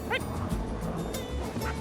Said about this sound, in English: Most of the dogs we're using on Baffin Island are Canadian Eskimo dogs.